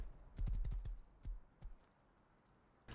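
Horse hooves clatter in a quick burst of clip-clop steps while riding in a zombie survival video game, then a few scattered single hoof falls trail off into near quiet.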